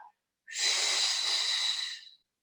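A Pilates instructor draws one long, steady breath in during an osteoporosis-focused class exercise, a close, airy inhalation of about two seconds on its own after a brief soft sound.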